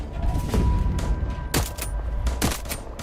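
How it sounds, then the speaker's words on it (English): Gunfire from people shooting in the video game Voidtrain: a handful of loud, close shots and short bursts crack out irregularly over a low rumbling background. "He just starts shooting."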